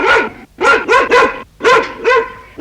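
A dog barks in a quick run of sharp, close, loud yaps, grouped into two clusters separated by a short pause.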